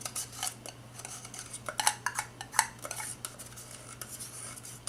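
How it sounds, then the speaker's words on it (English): A metal knife scrapes and taps inside small plastic soap-mold cup corners while setting melt-and-pour soap, a series of light, close scratchy strokes and clicks, fairly quiet, with no talking. "I like to use the knife to get in the little corners"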